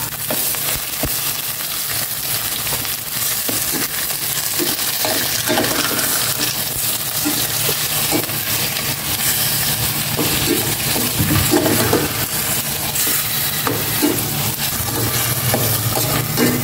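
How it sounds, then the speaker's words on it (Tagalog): Pork sautéing in hot oil in a pan for adobo with tofu, giving a steady, close, dense sizzle that runs unbroken from start to finish with small clinks and stirring noises scattered through it. "Ilagay ko na itong pork. Gisa kong maigi ko."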